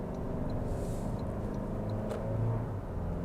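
A Toyota Land Cruiser engine pulls steadily under acceleration, a continuous low rumble heard from inside the cabin, rising slightly in loudness toward the end.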